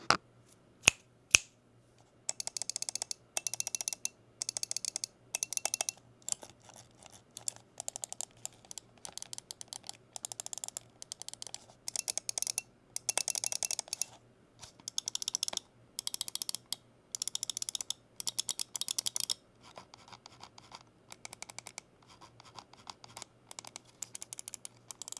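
Mouse button clicks from a Razer DeathAdder V4 Pro with Gen 4 optical switches and a DeathAdder V3 Pro: crisp, close, isolated clicks, first a few single presses, then long rapid runs of clicking in bursts.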